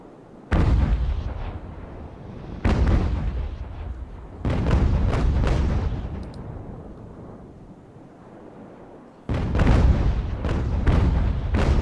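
Naval cannon fire from the age-of-sail game Ultimate Admiral: Age of Sail, with several heavy booming broadsides that each roll away into a long rumble. The shots come a few seconds apart, loud and alone, with no talk over them.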